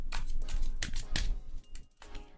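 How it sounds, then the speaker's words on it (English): A standard tarot deck is side-shuffled by hand, giving repeated crisp riffling bursts of cards sliding against each other, close and fairly quiet, in several uneven strokes with short pauses. "because of the size of the deck, usually this is how we shuffle it"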